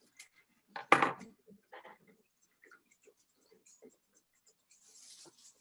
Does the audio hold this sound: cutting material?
yes